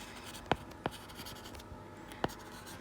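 Chalk or marker writing on a board during a compiler design lecture: a few sharp, separate strokes over a quiet room hum, near and moderately loud.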